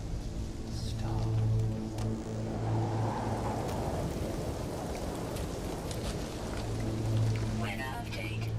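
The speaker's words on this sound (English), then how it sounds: "Storm clearing." Storm rain in No Man's Sky hisses as a broad wash under a low hum, with a voice speaking briefly over it.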